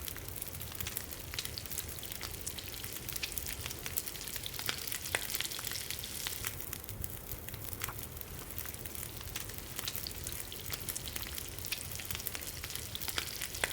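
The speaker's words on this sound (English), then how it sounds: "we are going to cook up the rabbit" Rabbit meat cooking over a crackling campfire in the survival game The Long Dark, a steady dense sizzle with scattered pops running continuously throughout, close and moderately loud with no talking.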